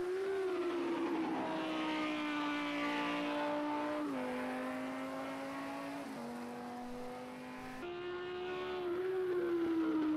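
GT3 race cars at Laguna Seca in Project CARS 2, with a steady, loud engine drone holding one pitch, dropping in stepped gear shifts, then climbing again as the car accelerates.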